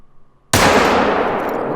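A single 7mm rifle shot fired at a caribou in a Yukon Valley hunting video game: one sudden, loud, sharp report after near silence, followed by a long echoing tail that slowly fades.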